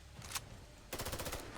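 Rapid automatic gunfire from a BPRE AR rifle in Fallout 4, heard as a single burst early, then a fast, evenly spaced volley of shots, fairly quiet and with no talk.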